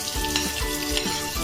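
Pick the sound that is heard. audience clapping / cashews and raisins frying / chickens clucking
cashews and raisins frying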